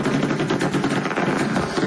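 Rapid, continuous crackling bangs of illegal fireworks bursting across a residential neighborhood, dense and overlapping like sustained gunfire, loud and steady throughout.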